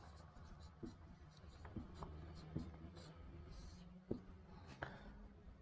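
A pen scratches an equation onto paper in short, intermittent strokes and taps, faint and close, interleaved with a man explaining in Hindi.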